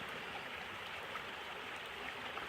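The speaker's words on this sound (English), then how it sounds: "That's a pretty good waterfall." A layered waterfall on the Keyauwee Trail in Uwharrie National Forest gives a steady, even rush of falling water, a moderate broadband roar with no pauses or voices.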